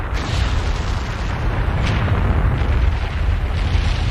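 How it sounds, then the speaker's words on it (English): Continuous loud deep rumble of a volcano eruption sound effect on a CBBC children's TV game show, a dense low roar with a few brighter bursts, sustained throughout with no talk. "The mountain has sensed your presence and is about to erupt."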